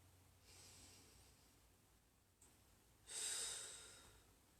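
Deep breathing during a yoga flow: a soft, drawn-out inhale, a pause, then a louder, longer breath through the nose, close up and with no talking.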